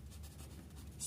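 Marker or chalk writing on a board during a class 10 trigonometry lesson in Hindi, a steady soft scratching that runs throughout with a slightly louder stroke at the end, no talk over it.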